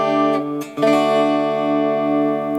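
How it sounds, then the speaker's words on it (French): Ibanez Gio GRG121 electric guitar played through the split neck pickup in the intermediate switch position, a sustained harmonic-rich chord cut by two brief pick scrapes before ringing on clean and even. "La position intermédiaire côté manche va vous proposer d'avoir le son d'un micro manche"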